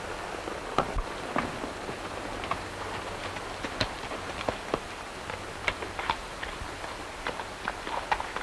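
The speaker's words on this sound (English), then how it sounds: "Looks like Madigan's horse" Horse hooves clip-clop at a steady walking rhythm. The steps are fairly close, over a soft background of light rain.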